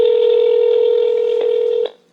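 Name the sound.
phone dialing tones on speakerphone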